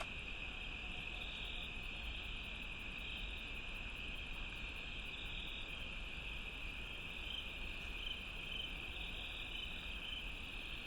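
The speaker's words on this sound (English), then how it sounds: "I can already tell the insects have shifted." A steady chorus of insects chirping at night outdoors, forming a continuous high-pitched buzzing drone with faint rapid pulsing, moderately distant and unchanging over the whole stretch.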